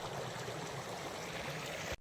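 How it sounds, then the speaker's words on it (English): The Little Colorado River in Arizona's White Mountains flows steadily, a close, continuous rush and gurgle of water that cuts off abruptly at the end. "The little Colorado flows on."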